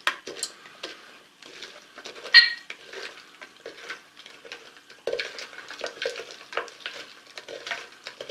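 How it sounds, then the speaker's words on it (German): Homemade Blutwurz herbal liqueur mixture being stirred in a container, a steady stream of soft scraping and clinking with one brighter knock early on, close and moderately quiet, no voices. "Und dann rühre ich das Ganze schon mal ein bisschen auf."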